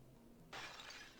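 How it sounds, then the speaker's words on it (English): A mirror shatters in the Persona 1 video game, a sudden bright burst of breaking glass that cuts in over a faint low game hum and lingers as a sustained crackling wash. "And the mirror shatters"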